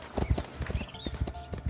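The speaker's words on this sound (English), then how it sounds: "I hear a horse." Horse hooves clip-clop in a steady rhythm through the town in the video game Foundation, close and clear over a low ambient game bed, with a faint whinny in the mix.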